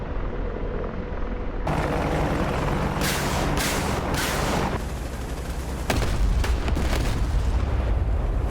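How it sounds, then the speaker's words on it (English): Apache helicopter rockets hit their target in a roaring combat scene, with a cluster of sharp blasts and booms over a constant loud rotor and engine rumble, then a heavier impact. "And rockets, rockets, rockets. Good effects on target."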